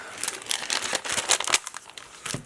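A small foil packet crinkles and crackles as it is handled, in a close, busy run of bright rustling bursts with no talk.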